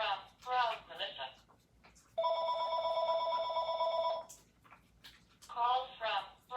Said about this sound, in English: Whenever I'm live, the phone rings.